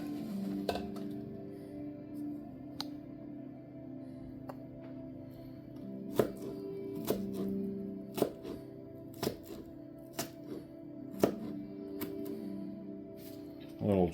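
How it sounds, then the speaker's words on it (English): A knife chops food into little chunks on a board, striking sharply about once a second over a soft background hum, with occasional talk. "So I'm going to go ahead and chop these up."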